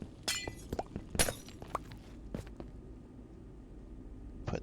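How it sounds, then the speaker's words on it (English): Glass blocks break one after another in a Minecraft-style game, each a crisp shattering crack at a fast uneven rhythm, close and clear with no talking. "let's go ahead and silk touch these glass"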